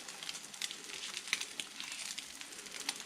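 An egg frying in a pan sizzles steadily with a dense, close crackle and small sharp pops scattered throughout.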